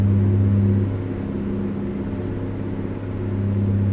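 A truck drives along in American Truck Simulator, a steady loud engine drone with a deep hum and a faint high whine, easing slightly in level partway through.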